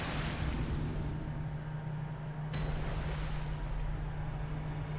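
A video game character lands on a water surface, giving a loud rushing splash of water and wind noise, with a second whooshing splash midway, over a steady low hum and no talking.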